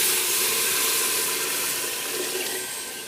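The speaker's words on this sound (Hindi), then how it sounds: "अब हम इसमें पानी ऐड करते हैं। ये वही पानी है जो मैंने चनों वाला रखा हुआ था।" Water poured into a hot pan of roasting chickpeas, a loud continuous hissing and splashing rush that tapers slightly over a few seconds.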